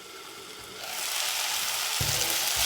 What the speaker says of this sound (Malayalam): ടൊമാറ്റോ ഒന്ന് വെന്ത് കിട്ടുന്നതിന് വേണ്ടിയിട്ട് ഒരു 5 മിനിറ്റ് അടച്ചു വെച്ച് വേവിക്കാം